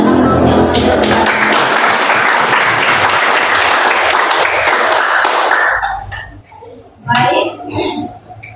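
A classroom group claps loudly and continuously for about six seconds after a group presentation, the dense applause then fading into scattered claps and students' voices chattering.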